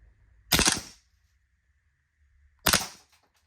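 An airsoft Desert Eagle gas pistol set to full auto fires two short, loud rattling bursts about two seconds apart. A faint steady hum runs underneath, and no one speaks.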